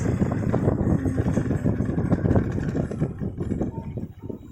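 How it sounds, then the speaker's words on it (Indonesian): The engine of a Honda Supra 125 motorcycle with a pinging knock runs close and loud in a choppy, uneven idle after the throttle is let go, then falters and fades as it dies out. "Nah, mati sendiri motornya tuh."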